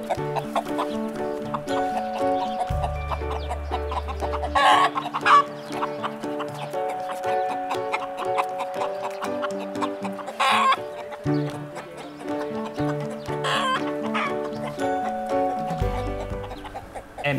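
Chickens cluck and babble repeatedly over a musical backing with steady rhythmic beats, the fowl calls prominent and near throughout.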